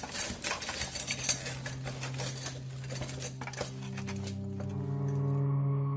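Cutlery and dishes clink at a home dinner table one evening, with bright, scattered metallic taps and scrapes crowding the first few seconds before fading into a steadier low hum. No one speaks.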